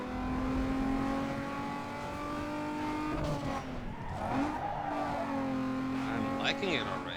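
A Toyota Supra in Need for Speed Underground 2, tuned though stock-looking, holds a steady high engine drone, then tires squeal and the engine revs up again, with a voice talking over it.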